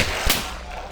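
A single sharp gunshot cracks out in a video game firefight, loud and close, followed by a brief rumbling tail and a faint later pop, with no talk during the shot.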